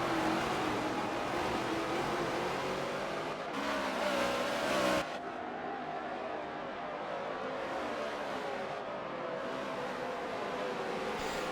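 NASCAR race cars in a video game at Sonoma, engines whining and revving continuously as several cars push toward the line, with shifting pitch as they accelerate and pass.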